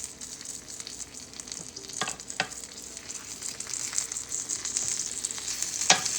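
A patty melt fries slowly in a pan over low heat, giving a steady close sizzle with faint crackles and a few sharper pops, no talking.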